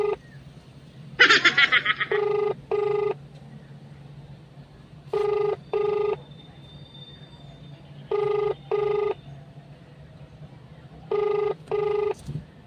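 A telephone call to mama goes unanswered, its ringback sounding as repeated pairs of short electronic tones in a steady rhythm, with a brief bright burst near the start and a low hum running underneath.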